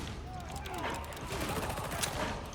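Revolver fire in the co-op shooter Darktide, a rapid string of close shots crackling over the steady din of battle, with faint voices in the mix.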